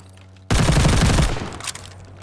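A fully automatic gun fires in the video game Call of Duty Vanguard: one loud, rapid, sustained burst that starts abruptly, then fades into a ringing echo tail.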